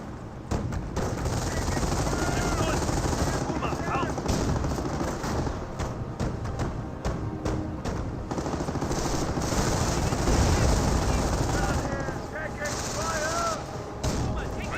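Dense machine-gun and rifle fire rattles continuously in the World War II strategy game Company of Heroes, with bursts and booms layered over one another throughout, loud and close.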